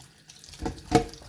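A faucet runs briefly over mountain sop fruit being washed in a sink, a soft splash swelling near the end of a short quiet moment.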